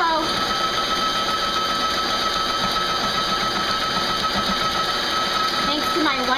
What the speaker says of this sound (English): Thanks to my wonderful husband, I have this beautiful mixer.